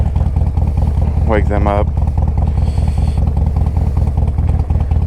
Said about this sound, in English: Just gonna kind of try to take my time and idle down the road, let the bike warm up a little bit